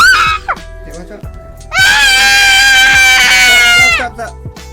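A child's shrill, sustained scream rises suddenly and holds loud and close for over two seconds during play, after brief high-pitched vocal sounds.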